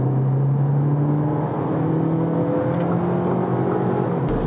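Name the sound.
car accelerating on the highway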